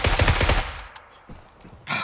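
Rapid automatic gunfire rattles in a dense, loud burst during a firefight in Grayzone Warfare, then cuts off, leaving a couple of faint shots and another short burst at the end.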